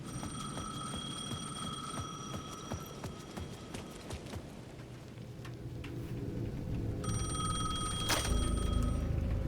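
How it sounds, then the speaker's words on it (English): A payphone at the edge of a plaza rings in the game Alan Wake 2, two bursts of bright, shrill bell trills separated by a pause, set over a low, busy ambient rumble. "The payphone at the edge of the plaza was ringing again."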